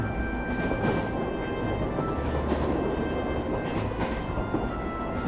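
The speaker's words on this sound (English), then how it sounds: "This train is bound for Boreahard via Keldic." A train runs steadily in the Trails of Cold Steel video game, a continuous low rumble with faint rhythmic rail clatter and a thin tonal whine, with no voices.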